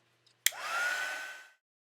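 A hair dryer switches on with a sharp click, blowing over wet watercolour paint in a short steady whoosh with a rising whine, then cuts off to silence.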